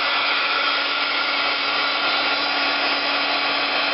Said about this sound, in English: let's just kind of hit it with the heat gun a little bit